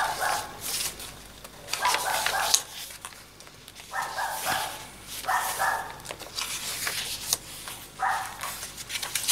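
A dog barking in bursts in a craft room, several short yaps spread across the clip at moderate distance, fairly faint against a quiet indoor background.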